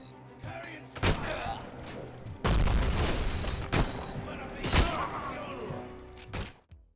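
Heavy gunfire and booming impacts from the Robocop Rogue City video game, several loud irregular shots and thuds scattered across the clip over a dense background of game noise.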